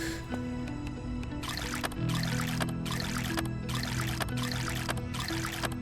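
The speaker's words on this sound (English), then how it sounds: "We'll drink a little bit of water real quick." A character drinks water in the survival game VEIN, with repeated gulping, pouring bursts in a steady rhythm, about six swallows over a low game ambience.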